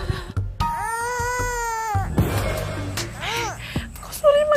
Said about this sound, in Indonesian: Masa di tengah jalan begini ada suara bayi sih?